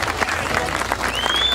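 A crowd at a 1988 strongman trial of strength cheers and applauds loudly for Paul Lupton after he completes his lift, a dense, sustained roar of clapping that carries straight through.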